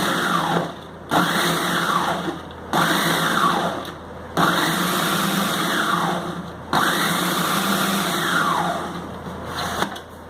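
A food processor chops cauliflower into fine bits in several loud, close bursts of whirring motor noise, each a second or two long, with brief pauses between pulses.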